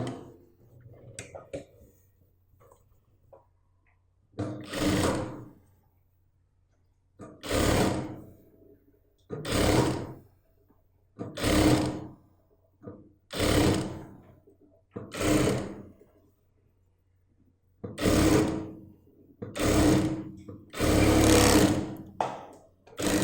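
A sewing machine stitches a sleeve in a series of short bursts, each whirring run lasting about a second with quiet gaps between, repeating some eight times at close range.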